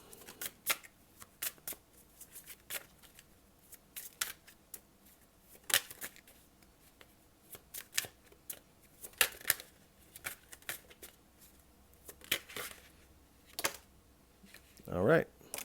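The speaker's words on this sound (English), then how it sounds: "let's get 3 cards. This is the Morgan's Tarot deck." Tarot cards from the Morgan's Tarot deck being shuffled and drawn, giving a steady run of crisp riffling flicks and soft slaps, with a brief louder rustle near the end.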